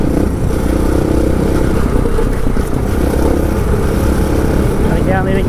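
A 690 enduro motorcycle rides off-road on a group ride, its loud, steady engine drone and rough wind-buffeted rumble filling the scene while a rider talks over it.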